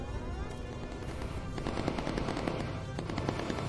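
.50 cal machine guns in the Bomber Crew flight game rattle off in long continuous bursts, dense and loud, with overlapping rapid reports filling the whole stretch.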